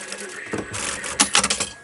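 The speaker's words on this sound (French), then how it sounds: "Et puis je viens coudre les latérales" A sewing machine runs tight stitches along the side seams of a quilted artist's bag, with short uneven bursts of mechanical whirring and clatter that grow louder and busier in the second half.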